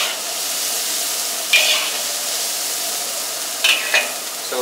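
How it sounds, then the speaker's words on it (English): Rice being stir-fried in a hot pan makes a loud, continuous sizzle, with a few brief scraping clatters of stirring over a steady hiss. "So fry it around and put your rice into it."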